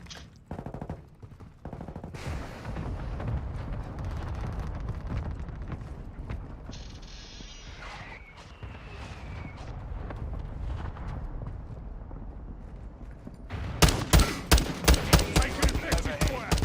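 Gunfire in Call of Duty, with scattered shots and mechanical clatter under a busy battle mix, building to a loud burst of rapid automatic fire near the end.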